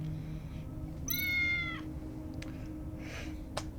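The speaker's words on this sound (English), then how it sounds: "Meow." A cat meows once, a clear rising-and-falling call, in the video game Tales of the Neon Sea, set over a low humming ambient background with a couple of faint clicks afterward.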